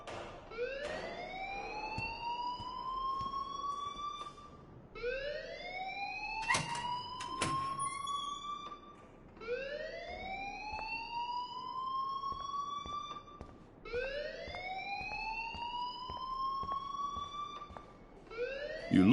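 An alarm in the Life is Strange video game wails in repeated rising sweeps, about four cycles, steady and moderately loud, with a few sharp clicks in between.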